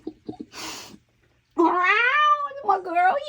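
A kitten lets out a long, close, plaintive meow followed by a shorter one, after a few soft taps and rustling.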